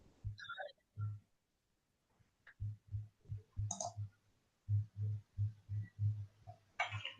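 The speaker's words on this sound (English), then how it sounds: "I'm clicking on share screen" Mouse clicks sound during a video call while screen sharing starts, a series of dull, close clicks in loose rhythm, some in quick pairs and runs, with faint background noise and brief electronic blips between them.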